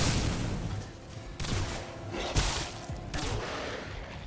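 Guns firing in the video game Singularity: dense, loud bursts of gunfire and booms crowd the whole stretch, with sharp shots rising out of a continuous roar.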